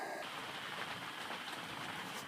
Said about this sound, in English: the storm has started. It's about 8 o'clock, but it's already pouring rain